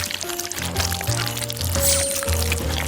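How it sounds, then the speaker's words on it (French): Waffle batter pours into bowls in a kitchen, a thick liquid stream with gurgling tones that rise and fall in several separate pours, fairly close and loud. "La pâte est délicieuse. Je vais la verser dans les bols."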